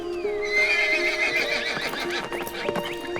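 A horse whinnies in a long, wavering neigh over a steady clip-clop of hooves, close and fairly loud across the whole short stretch, with no talking.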